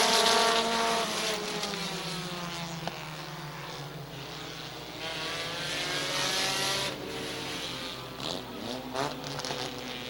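Race cars roar around the track at Midvale Speedway under green-flag racing, a thick, buzzing engine drone that rises and falls as several cars sweep past one after another, heard from a distance and with no talking.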